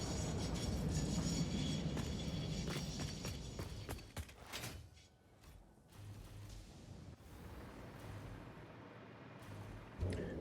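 A train in the factory-building game Satisfactory rumbles past, starting as a loud, broad roar with clattering transients that fades after about four seconds into a quieter low hum with a brief thump at the end.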